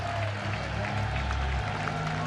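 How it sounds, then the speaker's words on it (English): A baseball stadium crowd applauds and cheers steadily at a moderate distance as a relief pitcher comes in, forming a broad, continuous wash of noise. "The crowd will cheer for 63, the Ragin' Cajun doing his job"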